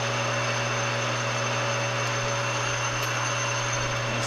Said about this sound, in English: Get the center drilled.